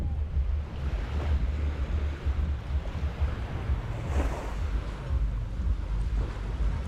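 Sea waves roll onto Playa Pelícanos beach in Playa del Carmen, a steady soft wash of surf with gentle swells, mixed with light wind buffeting the microphone and no voices.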